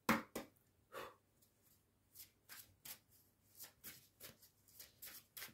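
Tarot cards shuffled by hand in a run of quick, crisp riffling bursts with short pauses between them, close and alone with no talking.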